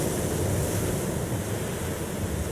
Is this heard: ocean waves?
yes